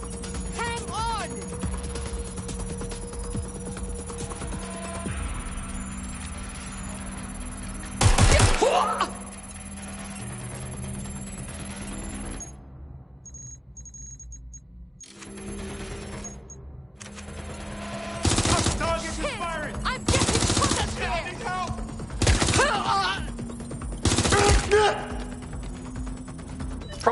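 Gunfire in a PS4 shooter game: rapid automatic bursts and sharp single shots crack repeatedly over a constant background drone, with brief quiet gaps between volleys and voices talking faintly beneath.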